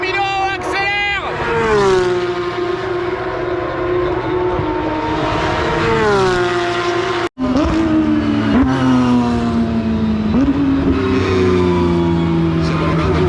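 Race cars scream past at full throttle at the Monza Grand Prix, loud engines rising and falling in pitch through gear changes, with a brief cut midway. Background chatter from the crowd sits under the engine noise.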